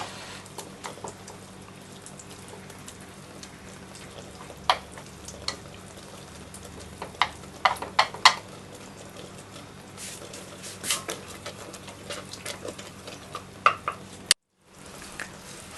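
Onions fry to golden brown in a pan for curry, a steady soft sizzle broken by frequent scrapes and clinks of stirring, close and moderately quiet, with no talking.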